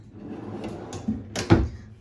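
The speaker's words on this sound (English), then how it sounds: "They've got the latching soft close drawer slides." A dovetail drawer on latching soft-close slides shuts quietly, a few soft knocks and a muffled thud settling near the end, close by in a room.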